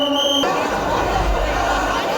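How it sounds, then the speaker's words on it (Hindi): Dense, loud babble of a large crowd of devotees at the Banke Bihari temple in Mathura, a continuous mass of voices with deep rumble, no single speaker standing out. "यही वजह है कि यहाँ पर इतनी ज्यादा भीड़ है।"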